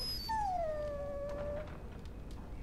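A dog in the Dragon Age: Origins game gives a single drawn-out whimpering howl that slides down in pitch, fairly quiet and alone.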